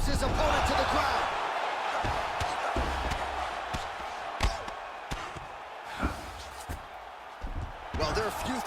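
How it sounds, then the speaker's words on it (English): An MMA fighter hits a double-leg takedown and slams his opponent to the canvas, with a few sharp, heavy thuds standing out from steady crowd noise while commentators talk throughout. "slams his opponent to the ground"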